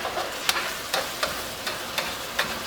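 Shrimp and green onions stir-fry in a wok. A spatula scrapes and tosses them in regular strokes, each with a sharp scrape over a constant soft sizzle.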